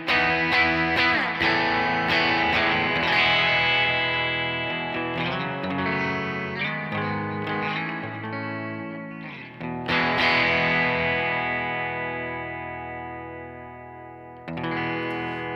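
Electric guitar run through a Pettyjohn ROUS Rat-circuit pedal in swamp mode, strummed chords and picked notes breaking up with gritty, harmonically rich overdrive, loud and sustained, ringing out between attacks with no talking.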